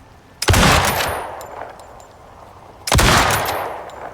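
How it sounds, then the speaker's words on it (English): A rifle firing armor-piercing rounds at a bear target in the video game Icarus: two loud, sharp gunshots roughly two and a half seconds apart, each followed by a ringing decaying tail. "Let's shoot at the bear target a little bit."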